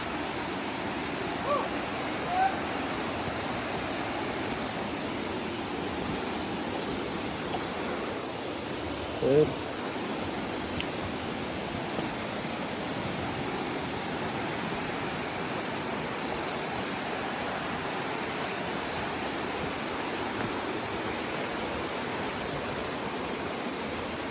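Mampili River on Mt. Labo flowing, a steady broadband rush of water heard throughout at moderate distance, with a few faint knocks and no clear talk.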